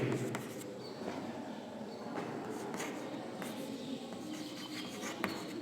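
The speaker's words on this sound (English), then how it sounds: "I am writing here" A pen scratches and rubs across paper during a physics lesson, a close, soft run of short strokes and scrapes with small pauses between them, with no talk.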